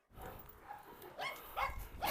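A dog barks in short, close bursts amid household noise, with a few sharp yelps rising toward the end.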